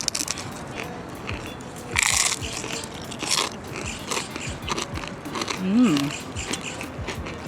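A deep-fried, cracker-like snack is bitten and chewed with loud, close crunches and crackles during a picnic at Angel Cruz Park in Stockton, California. People talk throughout, and the crunching stays clear under their voices.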